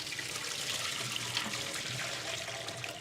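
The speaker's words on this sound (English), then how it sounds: "watching me fill up a bucket and pour it out" Water poured out of a bucket while rinsing 35mm ECN-2 film at home, a steady close splashing stream that runs evenly without a break.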